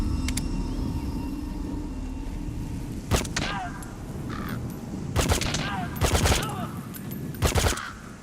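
Unsuppressed gunfire in Metal Gear Solid V: The Phantom Pain, with loud, sharp gunshots cracking out singly and in short bursts over a steady ambient hum, and calls in the background between the shots.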